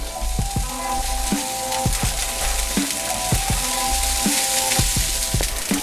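Day-old long grain brown rice fries in a pan with a constant loud sizzle, punctuated by regular scraping and clinking of a utensil stirring against the pan.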